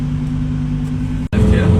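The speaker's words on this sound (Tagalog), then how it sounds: "Traffic dyan kasi gasoline station. Ang daming sasakyan." Steady road traffic hum of many cars crowding the street by a Petron gasoline station, a continuous low engine drone with a brief dropout, then louder passing vehicles.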